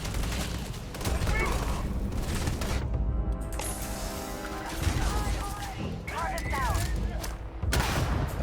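Dense gunfire in the space game Starfield, fast overlapping shots and bursts that form a near-constant loud barrage with brief lulls, a voice talking over it.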